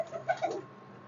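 Soft, brief cooing of pigeons in a rooftop loft, a few low throaty notes close by, alone without talk.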